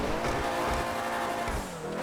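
A car slides and squeals its tires climbing a mountain road in GTA Online, with a long wavering tire screech over a revving engine, loud and close and without talk.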